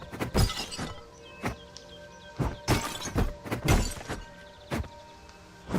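Antique pots smashing one after another in the video game Bygone Dreams, a rapid irregular string of loud ceramic shatters and crunching breaks with brief pauses between bursts.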